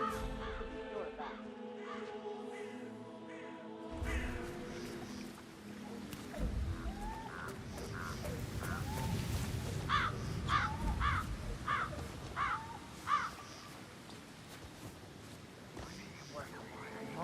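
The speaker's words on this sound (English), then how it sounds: "I'll never get rid of those stupid birds." In the Dartmoor, England countryside level of Hitman 3, a series of crows caw repeatedly at mid distance over a rustling outdoor ambience, with a voice speaking at the start.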